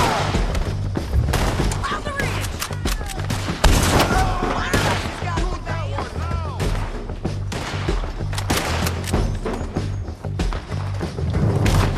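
Repeated gunshots crackle in a Red Dead Redemption 2 gunfight, coming in scattered bursts and volleys with heavy thuds, fairly loud and busy across the whole stretch against a dense game soundscape.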